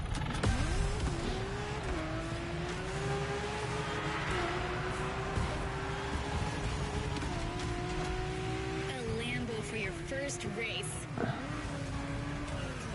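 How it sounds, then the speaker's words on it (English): A Lamborghini races in The Crew Motorfest, its engine droning steadily with rising and falling pitch through gear changes, heard up close and continuously for the whole stretch, with a voice talking over the engine noise. "A Lambo for my first race."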